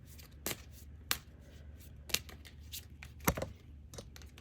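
Tarot cards being shuffled and drawn during a reading, with several sharp, distinct card snaps and slaps spaced irregularly over a soft, steady shuffling rustle, close and moderately quiet.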